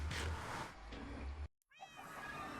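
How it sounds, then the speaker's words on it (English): A cat in the Minecraft video game meows twice, the first a longer near cry, then after a brief gap a second meow, over faint game background noise. "Hey, cat."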